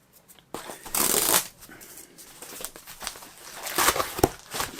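Packaging torn open on a horror merchandise haul item, a loud ripping burst followed by rustling and crinkling of wrapping, with another tearing burst near the end, close up.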